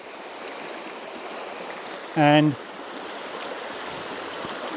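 Shallow trout stream babbling steadily in the open air, a continuous rushing wash of water close by, with a brief spoken word breaking in partway through.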